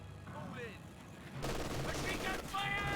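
Wartime gunfire in Company of Heroes 2 as shots are fired at a British 6-pounder anti-tank gun: a dense, rattling barrage breaks out midway over battlefield ambience, with a commentator talking over it.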